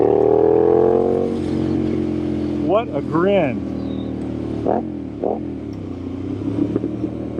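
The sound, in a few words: Triumph Street Scrambler 900 motorcycle engine and exhaust pipes revving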